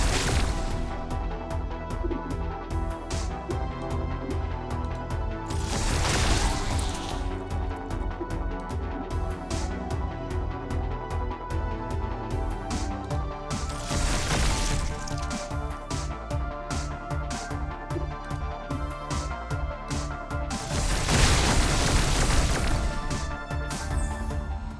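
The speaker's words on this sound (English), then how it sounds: "we'll use a blasting charges first. And now, let the marker blasts commence!" Blasting charges going off in the sci-fi game Deep Sky Derelicts, three broad crashing bursts spaced several seconds apart over a dense, busy game soundtrack.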